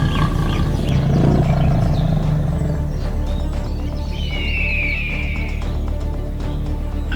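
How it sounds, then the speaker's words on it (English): A lion roars in the Okavango wild after bringing down a Cape buffalo, a loud, sustained low rumble over constant ambient noise, with a brief higher call partway through. "When the buffalo fell, the lion's loud roar broke the tense atmosphere."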